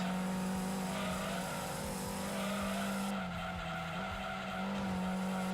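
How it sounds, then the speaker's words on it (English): Tires squeal and skid continuously as a race car slides wide through a corner in a racing video game, a loud sustained screech over the steady engine drone, with a brief dip partway through before the slide carries on. "I didn't make that corner and I'm sliding because I lost traction"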